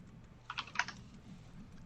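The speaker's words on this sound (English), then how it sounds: "It looks like he should be typing faster" A quick cluster of computer keyboard keystrokes, about five or six crisp clicks in a short burst, fairly faint over a low room hum.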